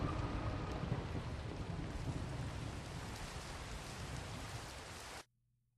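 Dense, steady rainfall from a Minecraft thunderstorm, a broad continuous hiss with low rumbling underneath, loud at first and easing slightly before cutting off abruptly near the end.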